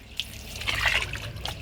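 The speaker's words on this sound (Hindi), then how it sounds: "टब में डाल देता हूँ पानी" Water pours into a tub in a brief, splashy trickle with small drips, heard close and moderately loud over a quiet background.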